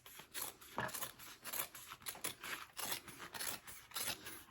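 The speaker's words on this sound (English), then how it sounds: "I'll trim off that excess again" Scissors snip through excess bag fabric while a bag is sewn, with a steady run of crisp cutting strokes close by, roughly every half second, with no talking.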